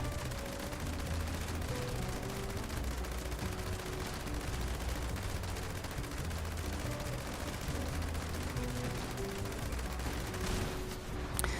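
Sustained rapid gunfire from a weapon in the video game Fallout 76, a dense continuous barrage of shots filling the whole stretch at steady loudness with no talking.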